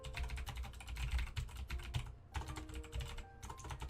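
Fingers tap rapidly on a computer keyboard, producing dense, close clicking in continuous runs with a couple of brief pauses, over a low background hum.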